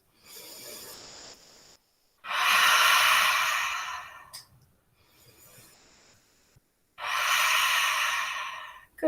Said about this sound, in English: 3 breaths.